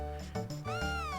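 A cat meows in Chrono Trigger on the DS, a short, clear, tonal two-part mew with a rising then falling pitch, close and alone.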